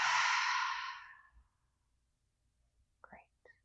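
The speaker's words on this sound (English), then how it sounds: "Once more, big breath in. Maybe an audible exhale out." A loud, breathy exhale during a yoga breathing exercise opens, fading out over about a second, followed by a brief faint sound near the end.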